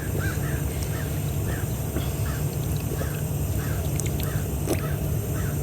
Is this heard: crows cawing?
yes